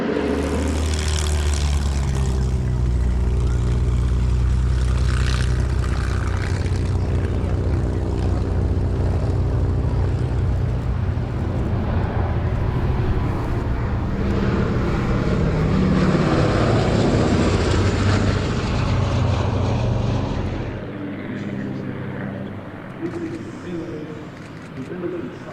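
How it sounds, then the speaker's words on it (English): Sally B, a G-model B-17 bomber, drones overhead on its piston engines with a loud, sustained propeller roar that fades toward the end, while a commentator talks over it. "Sally B is a G-model B-17"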